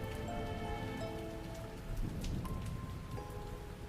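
Rain falls steadily in a video game scene, a dense wash of drops on surfaces with faint tonal music lines running underneath and no talking.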